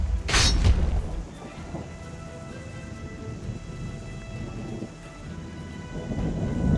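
A magical thunderstorm conjured by the Storm of Avalon spell in the King Arthur 2 strategy game: a loud thunderclap cracks at the start, then rain hisses steadily beneath low rumbling that swells again near the end.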